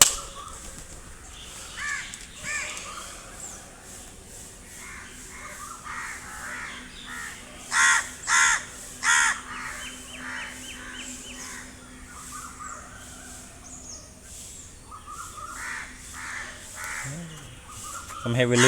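A very loud crow cawing outdoors during a morning yoga session, three harsh caws in quick succession standing out mid-clip amid quieter ambient noise, with a few fainter bird calls elsewhere.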